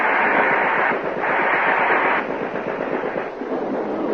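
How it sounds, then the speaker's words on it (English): A ray gun blasts in a 1954 old-time radio drama as a loud, harsh, buzzing roar of noise. It runs continuously for several seconds, surging and wavering, with no voices over it. "That ray gun's horrible. Burnt that shed to cinders."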